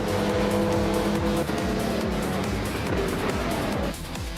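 A 2017 Mazda RT24P prototype race car in a racing video game roars at a steady high pitch, the engine note loud and close with tire noise, briefly dipping as it shifts or lifts near the end.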